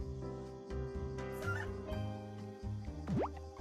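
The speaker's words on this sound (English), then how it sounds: "Got our chicken Bonita." A chicken in the farming video game Doraemon Story of Seasons clucks repeatedly in short, sharp calls over a steady tonal game music background, ending with a quick upward squawk, and no one speaks.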